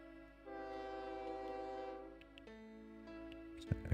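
A train in the OpenTTD game sounds a quiet, steady horn-like tone for about two seconds, then shifts to a lower held tone before a brief clatter at the end.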